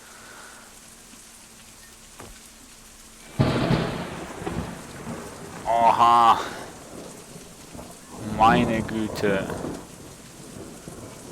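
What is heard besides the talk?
thunderstorm with rain in video game Out of Reach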